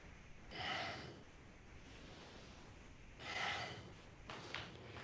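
Two audible breaths, a slow inhale and exhale, during a standing Kundalini yoga hinging motion from the hips, close and soft, with a quieter third breath near the end and faint room hiss between.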